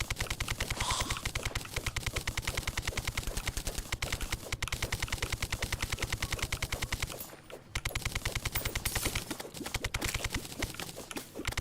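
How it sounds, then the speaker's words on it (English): Rapid, rhythmic ticking of hand digging in the video game Terraria runs almost without pause, a dense machine-like patter with a brief break partway through. "so I'm having to dig this out by hand, unfortunately"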